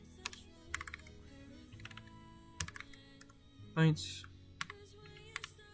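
Clicks of a new computer keyboard, sparse, sharp and close, arriving in short irregular bursts, with a brief spoken word in the middle.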